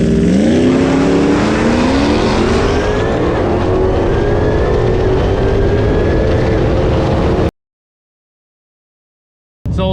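Two vehicles, a Dodge Trackhawk and a built Ford F-150 Lightning, run an eighth-mile drag race, engines roaring loud and close with rising revs and pitch as they accelerate, then abruptly cutting to silence before a brief return.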